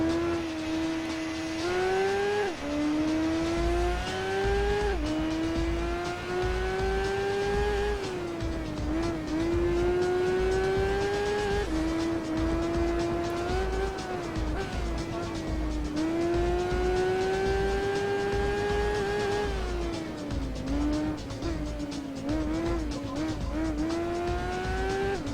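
Racing motorcycle engines from the PS2 game Tourist Trophy wail steadily on Trail Mountain Circuit, the pitch rising and falling through gear shifts as the bike accelerates and brakes, loud and continuous without talk.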